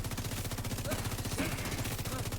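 Rapid automatic gunfire in The Division 2, a dense, steady stream of shots rattling continuously with faint voice traces underneath.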